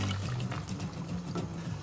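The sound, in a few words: water poured into a pan of tomato puree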